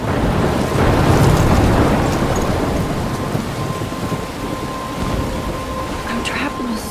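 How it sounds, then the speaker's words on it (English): Thunderstorm in Life Is Strange near a lighthouse, heavy rain and wind with a deep rolling thunder swell early on, steady loud roar throughout, a faint tone running underneath. "I'm trapped in a storm?"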